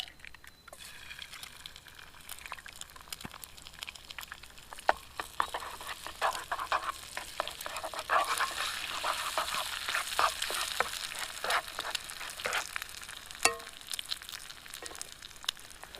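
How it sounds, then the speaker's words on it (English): Eggs fry in bacon grease with a steady crackling sizzle, spattering pops and occasional scraping or stirring clicks, close and continuous without talk. "Get a little bit of that bacon grease on there. Oh yeah. Fry me up some eggs."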